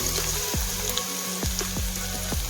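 Steady sizzling of onions and chilies frying in hot oil, with a few soft stirring clatters over a constant hiss.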